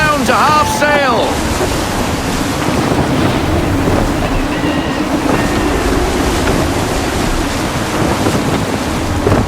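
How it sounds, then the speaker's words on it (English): Gusty wind roars steadily with crashing ocean surf around a sailing ship at sea in Assassin's Creed 3, a continuous loud rush with brief harsher bursts near the start. "Gusty winds can be difficult to manage."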